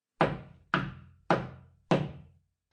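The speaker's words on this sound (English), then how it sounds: "Whence is that knocking?" Four firm knocks on a wooden door, evenly spaced about half a second apart, each a dull thud with a short decay, heard alone in a quiet room.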